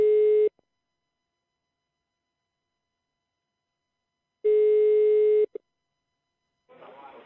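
A telephone ringback tone heard during a radio prank call: two long steady electronic tones separated by silence, loud and close, followed by faint muffled sound.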